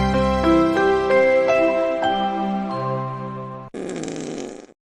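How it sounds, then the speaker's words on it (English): During a talk-show break, a bright tonal jingle rings out with ringing harmonic notes for several seconds, then cuts to a short, buzzy, raspy fart sound effect that ends abruptly. "now there's fart noises"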